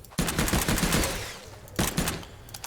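Gunfire in the Oooga Booga Dino Survival game as dinosaurs are shot, two loud bursts of rapid automatic fire separated by a short pause.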